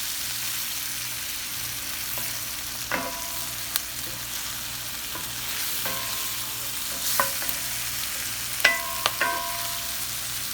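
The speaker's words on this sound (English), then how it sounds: "Make sure you cook your spinach before you, just a little bit before you add the egg in there." Spinach frying in a pan for a big breakfast, with a steady low sizzle and a few sharp clinks and scrapes of a utensil stirring the greens, close and moderately loud.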